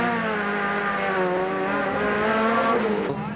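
Caltex Ford Sierra touring cars and other race cars at pit stops: a loud, sustained engine whine holding steady across the clip, cutting off abruptly near the end.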